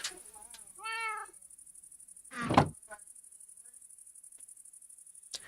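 A cat meows once in the background, a clear, moderately faint call, followed by a louder thump and then quiet with a high steady whine.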